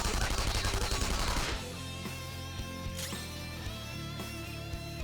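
In Persona 5 Royal a gun attack lets off a rapid burst of loud gunfire for about a second and a half, then drops to quieter clicks and sparse game effects.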